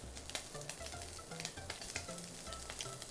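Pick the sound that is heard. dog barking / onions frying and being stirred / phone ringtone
onions frying and being stirred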